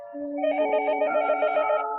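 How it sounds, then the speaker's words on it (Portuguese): A telephone bell rings in a living room, a bright, close, repeated trilling ring carrying on without pause and with no voices. "O telefone na sala de estar tocou de repente, uma vez após outra."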